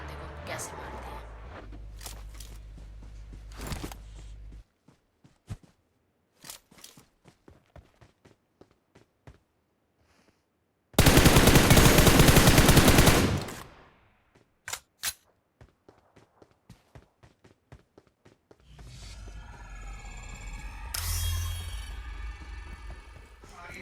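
Gunfire in the mobile battle-royale game PUBG Mobile: a dense burst of loud shots lasting about two seconds, surrounded by scattered footstep-like taps and stretches of game noise, with someone talking through much of it.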